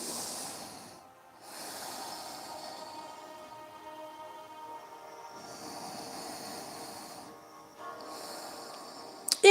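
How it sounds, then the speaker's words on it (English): Slow breaths drawn in and out through the nose during a yoga flow, each long airy hiss rising and fading, close and unhurried, with quiet gaps between them. "Breathing through your nose."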